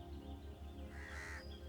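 Crows caw harshly in a short burst, a sound effect set into a spooky narrated story, riding over a steady, pulsing low musical bed.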